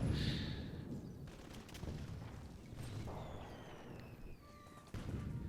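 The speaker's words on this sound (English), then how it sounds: "Level 2 machine guns are a little better at these guys en masse." Machine guns in the toy-soldier war game Toy Soldiers, firing on hard difficulty during the Kaiser's Battle, Operation Gneisenau, heard as distant, fairly quiet rattling and booms under battlefield ambience, with a louder burst near the end.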